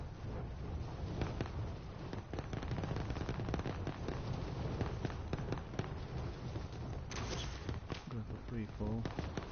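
Rapid bursts of gunfire crackle throughout a round of the battle royale video game Warzone, dense and continuous with sharp transient shots, while players talk over the action.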